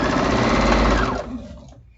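A sewing machine runs fast and loud while sewing charm squares together for a baby quilt, a dense mechanical whir that slows and fades to a stop near the end.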